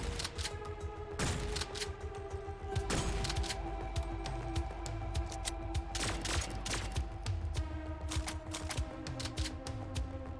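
Rapid bursts of video game gunfire from a player's weapon, sharp repeated cracks over a steady hum of game sound, fairly loud and continuous throughout with no talking.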